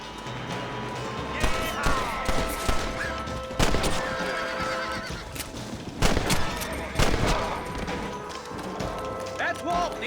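Several sharp gunshots ring out in the Western video game Red Dead Redemption, spaced irregularly among horse neighs, hoofbeats and voices talking over a busy ambient background.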